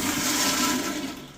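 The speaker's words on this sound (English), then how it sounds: "Almost like a traditional commercial toilet flush rather than a tank toilet flush." A Zurn commercial-style toilet in an Aloft hotel bathroom in Orlando flushes with a loud, powerful, sustained rushing whoosh of water that tapers off at the end, heard close and alone.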